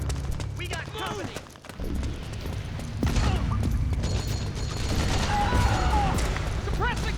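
Sustained gunfire rattles in Metal Gear Solid 4, dense bursts of shots and mechanical clatter running nonstop, loud and close, with shouting voices mixed in.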